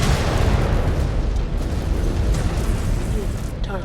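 A missile explodes in the MechWarrior Clans video game, a broad, loud rumbling blast that fills the whole stretch as one sustained roar, with faint radio chatter mixed in.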